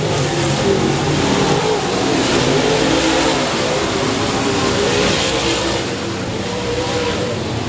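Race cars at Texarkana 67 Speedway on the final lap, a loud, sustained roar of engines from a pack of cars running at full throttle around the track.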